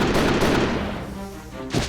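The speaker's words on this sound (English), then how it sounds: "Van Helsing fires his guns before they can act, taking down some of the guards near the entrance" A loud gunfire burst from the video game Code: Realize, with a booming blast that decays over about a second before a second sharp report lands at the end.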